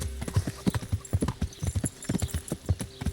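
A horse's hooves clip-clop steadily at a walking pace in Kingdom Come: Deliverance, the beats crisp and close with a faint whinny-like tone in the background.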